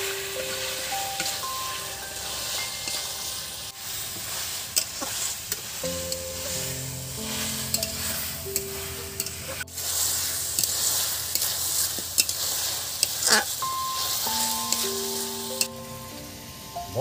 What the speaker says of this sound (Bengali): দেখছেন চিকেনটা একদম নেড়ে চেড়ে নিচ্ছি।